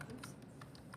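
Someone typing an Aadhaar number on a computer keyboard; a short run of faint, quick key taps, close and quiet, with no talk.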